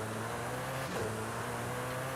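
Car engine held at full throttle through turns in Forza Horizon 5, a steady loud drone with a brief dip near the middle, no talking.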